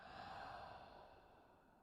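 A slow, deep exhale through the mouth, breathy and soft, heard close up and alone, gradually tapering as the breath runs out during a yoga vinyasa flow.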